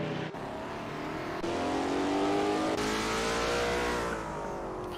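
Race car engines revving and accelerating in Assetto Corsa at Calder Park as cars spin around the last corner, loud and close with rising pitch and brief tire squeal.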